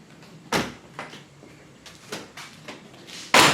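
Door of a 1937 Chrysler opening, heard as a few close latch clicks and thuds spaced across a quiet stretch, with a louder knock at the end and no speech.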